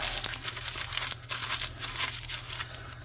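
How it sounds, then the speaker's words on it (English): A strip of material being crumpled by hand, close crinkling and crackling in continuous irregular bursts, moderately loud with no talking. "I'm going to crumple it up really good"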